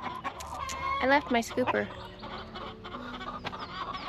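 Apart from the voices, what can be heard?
chickens clucking in a garden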